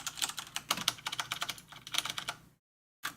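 Rapid, fairly quiet clatter of computer keyboard keys being pressed in quick irregular bursts while a game is played, briefly cutting to silence before the tapping resumes.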